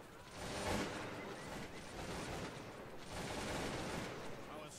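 Musket volley from a line of heavy dragoons in the strategy game Cossacks 2, dense crackling gunfire rolling in two sustained bursts over loud battlefield din.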